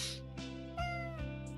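A cat in a visual novel game meows in several drawn-out, plaintive calls back to back, loud and close, with a breathy hiss-like onset at the start.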